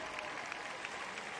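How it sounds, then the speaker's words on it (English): A baseball stadium crowd gives a rousing ovation for Michael Phelps before a championship game, a dense wash of applause and cheering that stays steady throughout, heard at a moderate distance. "getting a rousing ovation from the crowd as Michael Phelps"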